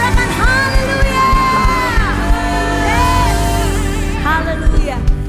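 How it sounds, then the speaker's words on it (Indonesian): A church congregation cheers for Jesus with loud, sustained crowd whoops, yells and shouts that rise and fall, and sharper voices stand out above the mass. "Berikan sorak-sorai yang panjang untuk Tuhan Yesus."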